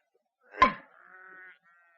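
A single sheep gives one short, fairly close bleat on a farm where sheep have been straying, sounding in an otherwise quiet radio-drama scene.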